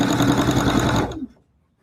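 A sewing machine stitches a denim hobo bag in a fast, steady mechanical whir for about a second, then stops abruptly and fades to silence; close and loud, with no talking.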